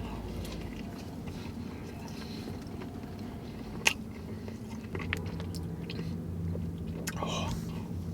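Someone eats an unfilled donut at a live Blue Jays baseball game, with soft close-up biting and chewing over steady crowd murmur and a faint sharp click partway through.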